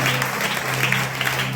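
A church congregation at a Hindi-language Christian worship service bursts into steady, loud applause, dense clapping held throughout over a low hum from the sound system.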